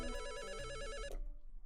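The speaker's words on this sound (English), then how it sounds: "The phone. It's probably Akira." Electronic telephone bell rings in repeated rapid bursts in a video game, loud and close, then stops abruptly with quiet background after.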